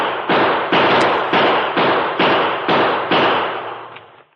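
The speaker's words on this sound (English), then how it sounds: "The masked man was only a few feet away, firing at something or someone below him." Rapid gunfire in an old-time radio western: eight sharp, loud shots in steady rhythm, each bursting out and then decaying before the next, close and clear with no talk over them.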